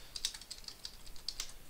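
Quick bursts of keystrokes on a computer keyboard as a Mercurial command is typed, light clicky taps in an uneven rhythm, close and fairly quiet with no talk.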